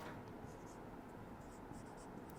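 Marker or chalk strokes on a lecture board, a series of short scratchy squeaks in quick bursts over a steady low room hum, faint and close.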